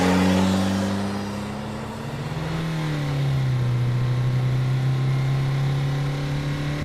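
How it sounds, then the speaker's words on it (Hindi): A car engine is started and driven off fast, a loud, close motor that revs and accelerates with a rising, shifting drone and no speech. "कांपते हाथों से गाड़ी स्टार्ट की और तेजी से घर की तरफ निकल पड़ा।"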